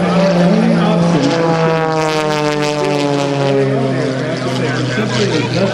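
Sean Tucker's custom aerobatic propeller plane flies at an air show with a loud, steady engine drone whose pitch sweeps down and then back up as it passes, while a voice talks over it.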